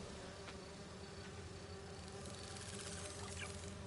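Dense insect buzzing from bees in the video game Marvel's Spider-Man 2, a steady droning swarm that holds at an even level throughout, with faint tonal game sounds layered underneath.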